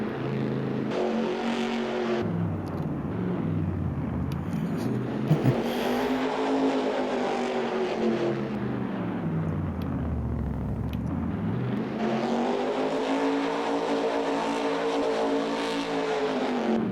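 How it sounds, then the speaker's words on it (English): A tractor engine in Farming Simulator 22 revs like a NASCAR race car, a loud continuous roar that rises, falls and climbs again in pitch in long sweeping waves with no talk. "I don't know why they made it sound like a NASCAR when you accelerate it too much"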